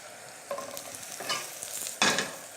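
Cèpe mushrooms frying in butter in a hot pan, a continuous sizzle broken by several stirring or tossing bursts, the loudest near the end, with no one speaking.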